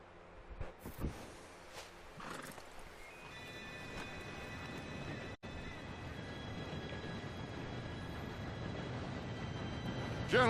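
A steam train in Red Dead Redemption 2 approaches, its broad rumble swelling steadily louder from a few seconds in, with faint horse hoof clops early on and thin whistle-like tones riding over the growing roar.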